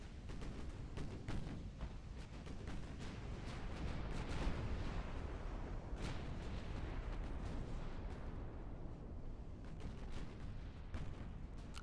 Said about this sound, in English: We looked over just in time to watch that guy explode.